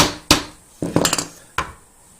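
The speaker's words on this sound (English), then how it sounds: "I find a little hammer, little tapping" A small hammer taps a pin into a wooden folding dice tower: a sharp single strike, then a quick burst of several light taps, then one more crisp hit, close and clear with no talking.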